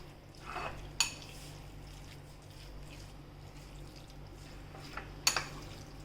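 A spoon scrapes and clinks against a dish while potato and spinach ingredients for a baked dish are mixed, with two sharp metallic taps and soft wet stirring in a quiet kitchen.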